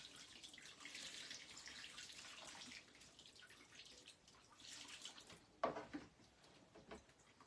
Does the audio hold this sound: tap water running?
yes